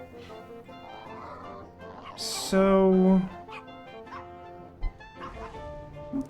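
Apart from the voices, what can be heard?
dogs barking in Wallace and Gromit video game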